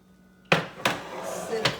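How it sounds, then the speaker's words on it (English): A cheesecake pan comes out of a home oven with a sharp metallic clank, followed by two more knocks as it is set down on a surface. The room is otherwise quiet. "let's take it out of the oven, and you'll see it's still a little jiggly in there"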